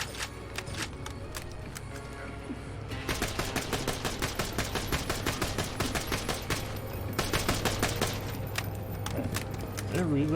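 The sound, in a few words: gun firing in an Xbox video game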